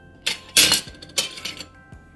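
Clinks of a utensil against a bowl or glass as milk, sugar and active dry yeast are mixed for star bread: a few sharp, close taps spread over two seconds, with no talking.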